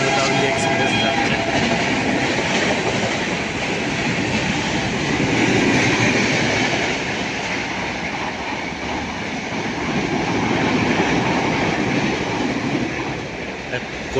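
The Kolkata Jammu Tawi Express rolls past a station at Masagram near Bankura, a loud, sustained roar of wheels and rattling carriages that swells and ebbs over about fourteen seconds, with a brief high squeal early on.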